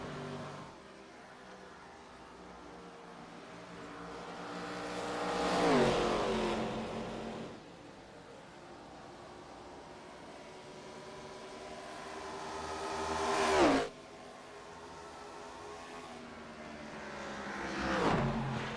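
ARCA race cars racing at Bristol, heard as engines roaring past in repeated swells, each rising to a loud close peak and then dropping in pitch as the car moves away.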